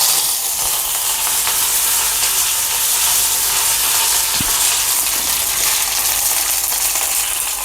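Curry leaves dropped into hot oil with fenugreek seeds on a low flame give a loud, steady, close frying sizzle and hiss that runs without a break, with no voices.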